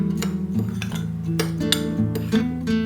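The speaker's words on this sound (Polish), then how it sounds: "Wszystko to wymieszam dokładnie." Spoon clinking against a bowl while mixing a crumble of sugar, flour and cinnamon, a close run of rhythmic metallic taps and scrapes repeating about every half second.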